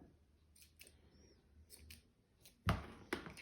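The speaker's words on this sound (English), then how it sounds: "What I had in the kitchen was baker's twine. So I'm just going to cut." Scissors snip through baker's twine in a kitchen, a handful of quiet, crisp cuts spaced irregularly, with one louder clack near the end.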